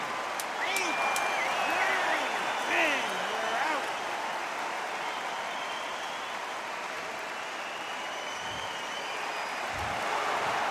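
A crowd applauds and cheers steadily after a knockout in a welterweight bout in a boxing video game, a broad hiss of clapping that holds for several seconds with a few whistles and a voice cutting in early.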